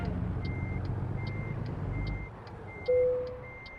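A truck towing a trailer reverses in American Truck Simulator, its backup alarm sounding a regular series of evenly spaced beeps over a low engine rumble that fades, with a short sustained tone joining near the end.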